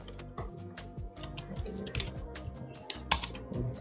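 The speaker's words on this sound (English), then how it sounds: "Let's go here and simply type npm there." Rapid typing on a computer keyboard while running an npm command in a terminal, a steady run of close, crisp key clicks with a few louder taps, no talking.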